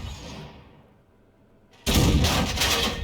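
A loud, close tank cannon shot from the SU-8 in a team battle video game booms suddenly after a quieter stretch of engine rumble, followed by a sustained roar and rumble.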